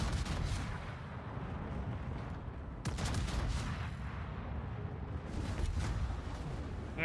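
Warship main guns firing in World of Warships, booming in heavy broadband salvos about every few seconds over a continuous low rumble of battle noise, with no talking.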